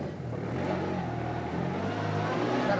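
A car engine on the 1984 Driving Force motor competition, revving hard and accelerating with a steady, loud mid-pitched roar that holds throughout without any voices.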